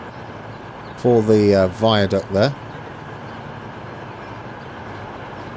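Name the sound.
British Rail Class 220 train running in Transport Fever 2, from a video game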